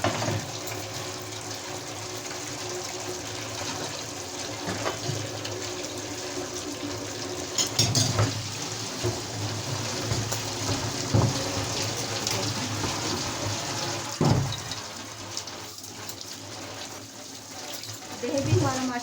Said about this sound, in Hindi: मैं उस वक्त तक बर्तन धो लेती हूँ